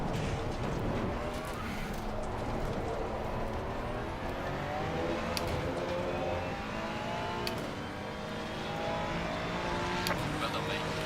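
A McLaren V8 race car in Assetto Corsa Competizione howls steadily at high revs, with gear changes, tire noise and a whirring drone throughout, while people talk over it.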